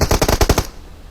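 Rapid automatic gunfire in a squad-based shooter game with robots, a burst of about eight tight shots in quick succession that cuts off abruptly, loud and close with no voices over it.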